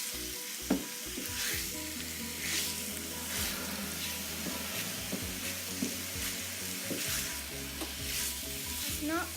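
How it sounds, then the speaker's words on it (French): Chicken curry with onions and shallots stirred over high heat in a pan, a steady sizzle and frying hiss with scraping and clacking of the utensil throughout, close and continuous. "Maintenant, il faut remuer à feu vif"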